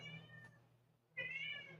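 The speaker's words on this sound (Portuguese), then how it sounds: "Como sempre, o gato miando, porque ele espera eu falar para miar." Domestic cat meowing close by indoors, two drawn-out harmonic meows separated by a short pause, with a low steady hum beneath and no talking.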